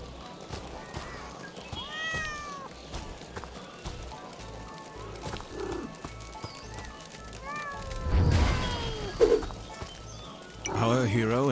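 A cat meows repeatedly inside a suspicious machine in an open-world third-person RPG, several rising mews over game music and background effects, with a horse-like whinny and clip-clop sounds nearby.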